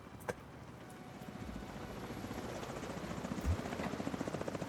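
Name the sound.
helicopter approaching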